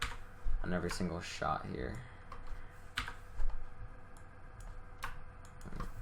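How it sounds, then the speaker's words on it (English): Computer keyboard keys are pressed in scattered clicks during a software editing session, faint and close, with someone talking over most of them. "You can make a little marker there by clicking the asterisk key above the 9."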